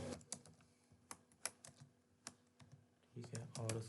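Typing PHP code on a computer keyboard produces sparse, irregular clicks of individual key presses, close and soft, before a voice begins speaking near the end.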